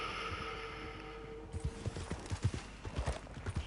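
A ridden horse's hooves clip-clop in a steady walking rhythm, close and clear, after a brief stretch of wind and ambient noise.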